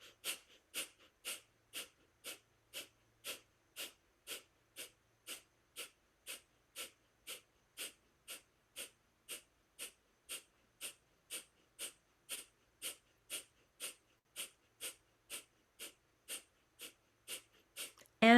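Rhythmic rounds of sharp, quick breaths during a guided breathing meditation, about two breaths per second, steady and evenly spaced, close and alone with no talking.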